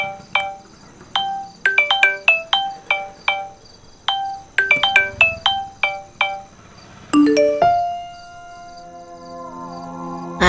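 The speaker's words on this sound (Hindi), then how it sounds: "तुम्हारा फोन आ रहा है।" A melodic electronic ringtone plays close and loud, repeating short chiming note patterns in quick rhythmic bursts, then shifting to sustained tones.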